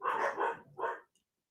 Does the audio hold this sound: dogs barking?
yes